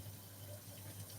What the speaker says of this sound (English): So I will remove it from the heat and sieve out the